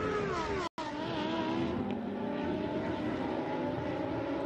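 Lamborghini Super Trofeo race cars at Imola roar past in a loud, sustained engine drone with shifting pitch, one brief dropout partway through, with no voices.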